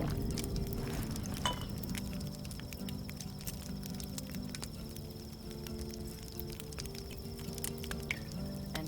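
Glasses clink faintly in a toast in Cyberpunk 2077, a couple of brief, delicate chinks, one early and one near the end, set against a quiet, steady ambient hum.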